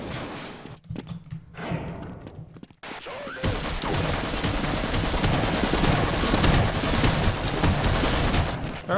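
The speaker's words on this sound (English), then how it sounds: "Just hear how many grenades got thrown up there." Dense grenade blasts and gunfire from the sci-fi shooter game Escape The Future, a continuous loud barrage of overlapping thuds and bursts after a brief quieter opening, with no talk.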